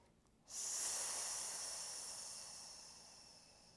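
A long, steady breath during a yoga back-bend sequence rises sharply and then slowly fades, a breathy hiss heard up close with no one talking.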